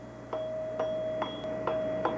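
A gold-plated tuning-fork putter striking a ball at its sweet spot, five evenly spaced ringing taps over a sustained pure bell-like tone that lingers between hits.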